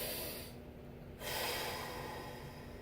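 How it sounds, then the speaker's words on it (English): Deep, full breaths during a hip mobility stretch, a soft close airy exhale followed by a longer inhale with a faint steady hum behind it. "Really full deep breaths."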